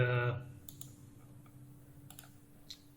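Faint, sharp clicks of a computer mouse, a few isolated taps spaced across a quiet room after a brief burst of speech at the start.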